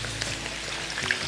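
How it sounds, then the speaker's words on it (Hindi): Potato pieces fry in hot oil for Sindhi aloo tuk, making a dense, continuous close-up sizzle and crackle with no talking over it. "तो ये जो फ्राइंग हो रही है अभी, you have to be careful"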